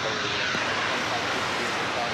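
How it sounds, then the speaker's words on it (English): A 30-year-old airliner at DFW Airport, its engines giving a steady, broad jet roar at moderate distance, holding even throughout with a faint voice underneath. "Yup, another 20th century plane, 30 years old."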